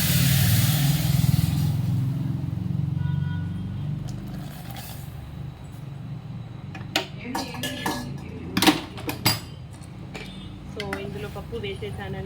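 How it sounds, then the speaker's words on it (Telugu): Dal being tipped into a cooking pot for dal dhokli, heard as a run of clinks, rattles and scraping knocks after a low rumbling start, with someone talking in between. "సో నేను ఇందులో ప్రజెంట్ ఇప్పుడు పప్పు వేస్తున్నాను, చూడండి."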